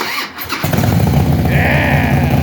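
A car engine cranks and catches after the key goes in, then roars into a loud, steady, close rev that holds without a break and with no voices.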